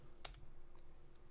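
A computer keyboard being typed on, with a few faint, scattered keystroke clicks over a low, steady background hum and no voices.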